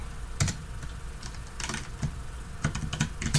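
Scattered keystrokes on a computer keyboard while code is entered in Android Studio, irregular clicks and short bursts of rapid taps, close and clear over a faint background hum.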